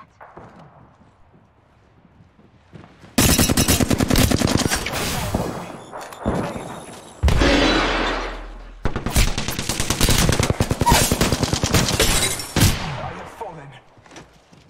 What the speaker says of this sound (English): Listen up, I'm getting shot at.